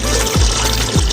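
Aeration bubbles churn the water of a tilapia fish pond recirculating aquaculture system, a loud continuous gurgling rush with two deeper bubbling surges, close by and with no talking.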